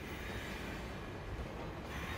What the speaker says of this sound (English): Okay, so now we're in a train.